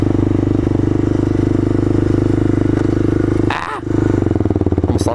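A motorcycle rides along with a steady, loud engine drone and constant wind rush close to the microphone, then a sudden clattering disturbance before the engine note returns.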